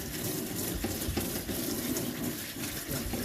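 A peeled radish being scrubbed with a brush under a running kitchen tap, a steady close rush of water with rough brushing strokes throughout.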